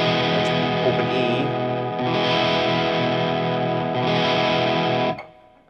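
Open E string on an electric guitar sounds through distortion and chorus effects, ringing loud and sustained for several seconds before cutting off, with no voices.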